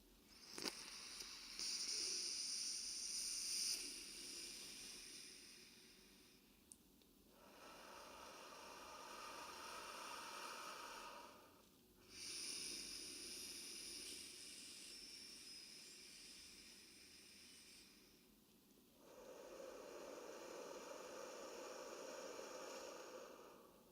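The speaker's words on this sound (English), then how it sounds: "let's take a deep breath" Three slow, deep breaths, each a long, soft, airy inhale or exhale close to the microphone, separated by quiet pauses.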